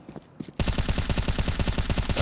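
AK rifle gunfire in Counter-Strike: after a couple of faint taps, a rapid automatic burst of loud, evenly spaced shots rattles on steadily to the end.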